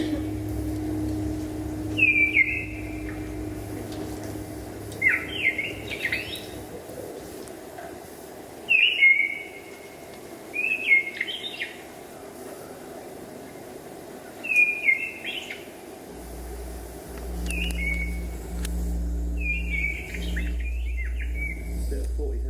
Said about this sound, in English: this is a first summer missile thrush. You can hear it slightly halting song with the odd call interspersed